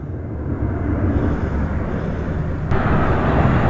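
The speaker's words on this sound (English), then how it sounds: "They have planes taking off and landing." Jet aircraft roar near Las Vegas airport, a loud broad rumble with wind buffeting that swells slightly toward the end as planes take off and land nearby.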